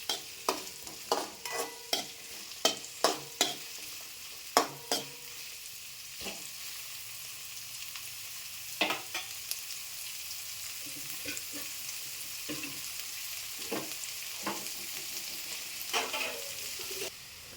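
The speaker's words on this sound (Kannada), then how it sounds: "ಇವೆಲ್ಲ ಕಲರ್ ಚೇಂಜ್ ಆಗುತ್ತಾನ ಚೆನ್ನಾಗಿ ಹುರ್ಕೊರಿ." Ingredients frying in a pan for a rice side dish, with a steady sizzle and repeated sharp scraping clicks of a spoon stirring, close and fairly busy throughout.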